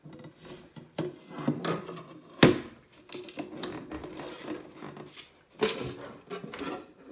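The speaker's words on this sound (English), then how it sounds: "you need to force this lid off from the jar" A stuck lid being forced off an OXO Pop push-top storage jar: plastic scraping, rubbing and creaking in irregular bursts, with a few sharp clacks and snaps, close up and without talk.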